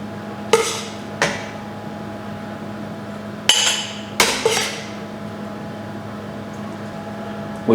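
Filled chutney jars of spiced eggplant, recycled glass, being handled on a kitchen counter: a few sharp glassy clinks and knocks spaced irregularly over steady background hum, with no talking.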